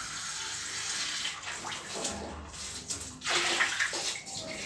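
Water rushes and splashes out of an RO water purifier being flushed during servicing, a continuous hissing flow with surging bursts and gurgles, moderately close and steady without talk.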